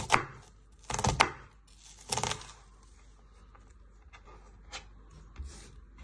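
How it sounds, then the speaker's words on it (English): A kitchen knife chops pork stir-fry ingredients into small pieces on a board in a few quick bursts of rapid strikes, close and clear, with sparse lighter taps between bursts. "Turn it back round and chop it into little pieces."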